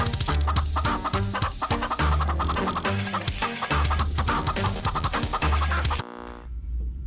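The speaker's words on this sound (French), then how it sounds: "il a échantillonné son poulet" A sampled pet chicken clucks inside a track, with repeated clucking and scratching over a loud, rhythmic beat and bass line, ending in a brief, more exposed clucking tail.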